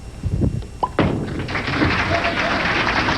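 A bowling strike at the 1999 PWBA Omaha Open championship match, heard as a thudding ball impact followed by a sharp crash of scattering pins, then a sustained wash of crowd applause and noise in a busy bowling center.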